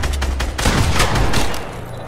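Rapid gunfire from a weapon in the video game Fortnite, a dense, loud burst of repeated shots continuing through the whole moment with no talk over it.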